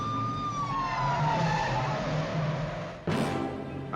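A siren wails with a falling pitch over rumbling car engines during a film car chase in Diamonds Are Forever, followed near the end by a sudden sharp skid or crash burst.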